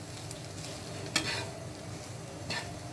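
Fried rice being stirred in a hot pan, a continuous soft sizzle with a couple of brief scraping strokes, close but fairly quiet.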